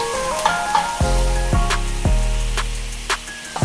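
Garlic sizzling in hot neutral cooking oil in a pan over medium-high heat, with a steady frying hiss. A few clinks and scrapes of a utensil stirring cut through it.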